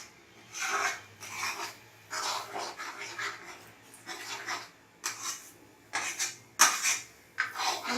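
A spatula scrapes and rubs through anda bhurji scrambled eggs in a pan, giving rhythmic rasping strokes about once a second, close and fairly loud, with short gaps between them.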